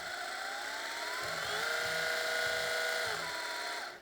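A Milwaukee 12V mini belt sander runs at a controlled speed, giving a steady close whine with slight pitch shifts as the speed is adjusted, alone before it winds down at the end.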